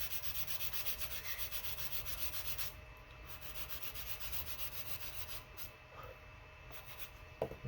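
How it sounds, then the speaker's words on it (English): Sandpaper rubbing steadily against a balsa wood nose block for a P-30 rubber-powered model airplane, a continuous close scratchy rasp with short pauses and a few light knocks near the end. "last thing we're going to do is we're going to sand this back a little bit"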